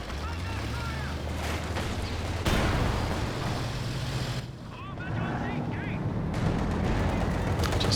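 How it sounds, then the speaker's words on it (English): Dense battlefield noise from the Company of Heroes 2 strategy game fills the scene, with machine gun bursts and heavy firing packed together at a loud, constant level, while a voice talks over the din. "Triple machine guns as well"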